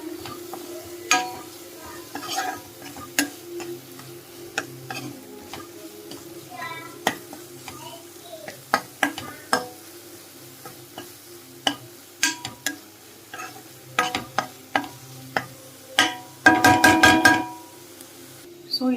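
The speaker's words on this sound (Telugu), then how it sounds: "ఇక్కడ ఆనియన్ పేస్ట్ అలానే పచ్చిమిర్చిని కూడా ఫ్రై చేసేసుకుంటున్నానండి" Onion paste with green chillies and a pinch of turmeric sizzles in a pan, a quiet steady fry broken by frequent sharp scrapes and clinks of a spoon stirring, with a louder burst of clatter near the end.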